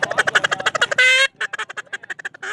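Duck call blown by expert caller Cody Hale at a Utah waterfowl event: a fast series of loud, nasal quacks, then a longer blaring note, then more rhythmic quacks, all close and clear with no talk.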